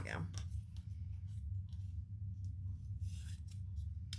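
Scissors snip through material in several short, quiet cuts, with a person talking over them.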